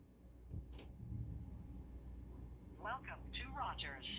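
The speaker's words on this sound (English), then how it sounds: "See that? It dials." A Gydom IDW13 smartwatch dials a call to 611, giving a short series of quiet electronic tones near the end after a faint click, over low background hum.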